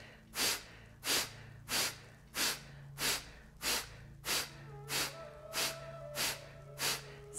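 Forceful rhythmic exhalations in a spirotherapy breathing exercise, about eleven sharp breaths out at an even pace of roughly one every two-thirds of a second, close and clear, with faint tones in the background.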